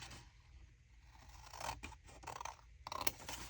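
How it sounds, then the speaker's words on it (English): Scissors cutting paper at an angle for a junk journal pocket, a few close, soft snips and scraping slides of the blades, quiet and uneven, with no talk. "And then I'm just going to cut at an angle."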